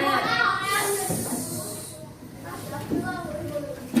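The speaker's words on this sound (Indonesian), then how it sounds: "Suara ular." A snake's hiss rises as a steady, breathy rush and carries on for over a second, heard in a classroom with voices talking around it.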